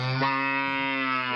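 A village buffalo bull lowing, one long, drawn-out, deep and tonal call held for over a second, fairly close and clear with no talk over it.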